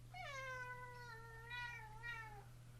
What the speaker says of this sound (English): Yep, my cat's talking to me.